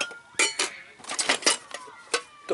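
Stainless steel Dutch Army mess tins clink and clatter together in several sharp metallic knocks, close and bright, during camp packing.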